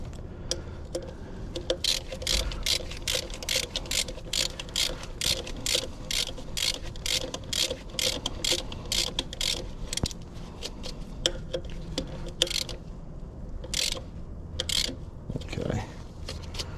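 A ratchet clicks in quick repeated strokes while tightening a leaking hub cap on a truck's front axle, the metallic ticking steady and fairly quiet with a voice talking now and then.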